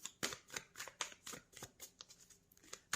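Tarot cards are shuffled close up in quick, crisp riffling bursts, a run of papery flutters and soft slaps, quiet and with no talking.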